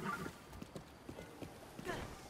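Horse hooves clip-clopping in Zelda: Breath of the Wild, a few soft scattered steps heard faintly beneath a quiet voice talking.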